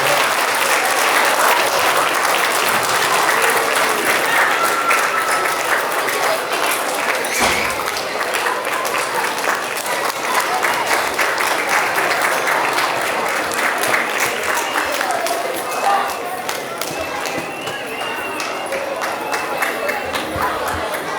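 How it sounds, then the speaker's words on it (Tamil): An audience at a Tamil school annual day certificate presentation gives a standing ovation, with loud, dense, continuous applause and some crowd chatter that goes on for about twenty seconds. "they deserve a standing ovation, please"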